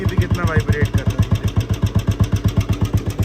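Old Royal Enfield Bullet motorcycle engine idling up close, a loud, steady thump-thump of evenly spaced low beats with a brief voice near the start.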